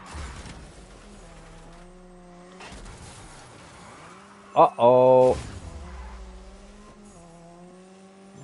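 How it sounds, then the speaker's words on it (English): A car driving in Destruction All-Stars, engine humming and changing pitch throughout, with a loud burst of squeal or impact near the middle; a voice briefly speaks over it. "And now I have car."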